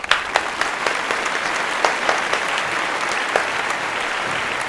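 Steady applause from a crowd fills the whole stretch, with scattered sharper claps popping out above the dense wash of hands; no talking is heard.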